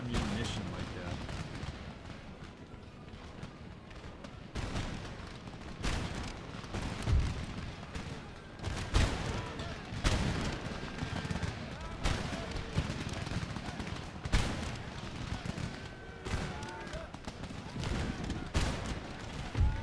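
Massed musket volleys and cannon fire in an Empire Total War battle (Darthmod), a long engagement with units running low on ammunition; dense, continuous crackling shots and booming artillery thuds recur throughout, with some talk mixed in.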